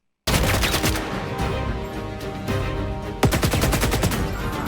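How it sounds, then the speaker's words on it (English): Rapid automatic gunfire from a weapon in the Squadron 42 video game vertical slice, loud and close, with sustained bursts of rattling shots, a brief lull, then a fresh burst continuing to the end, no voices. "So we'll get to hear the ammo and how the gun sounded like before"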